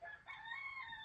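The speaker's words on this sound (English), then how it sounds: "No, that was just a chicken." A chicken calls out once, a rising harmonic squawk more like a crow than soft clucks, close and fairly loud, with no talking over it.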